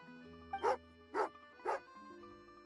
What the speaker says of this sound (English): Oh, angry doggy.